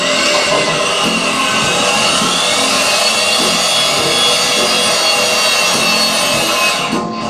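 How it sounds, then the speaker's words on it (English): A non-impacting electric wrench tightens an A325 steel bolt assembly on a bridge, giving a loud, continuous grinding whir that holds steady for several seconds before cutting off near the end, with no one speaking. "Now we're going to tighten our bolt assembly using our non-impacting electric wrench."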